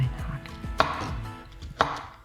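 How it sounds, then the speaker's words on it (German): Knife chopping button mushroom stems on a cutting board: two sharp, distinct knife strikes spaced about a second apart, interspersed with softer low thuds and handling noise, close and without speech. "Die Stiele, die wir jetzt rausgenommen haben, werden jetzt klein zerhackt"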